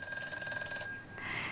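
A telephone rings for a viewer call-in on a live broadcast. One steady electronic ring warbles for about a second and then cuts off into a soft background hum.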